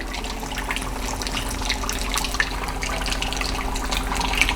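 Cheese curds, dropped about six at a time, fry in hot oil for true Wisconsin fried cheese curds, giving a steady, even hiss and crackle of bubbling oil with scattered small pops, close and constant throughout.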